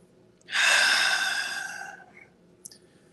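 One deep breath during a yoga session: a loud, close, airy inhale that fades out over about a second and a half, followed by a faint click.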